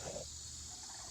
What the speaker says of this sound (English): Got some big birds back there, I could hear them.